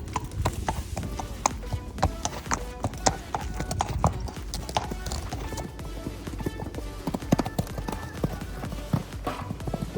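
Pony hooves clip-clop steadily and close while the animal is being ridden, in a quick uneven rhythm that runs throughout, with an occasional whinny and a voice speaking over it now and then.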